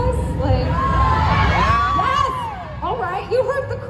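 A convention panel audience at a Genshin Impact event in Los Angeles erupts in loud, close shouting, whoops and cheering that swells over several seconds, with laughter and excited voices mixed in.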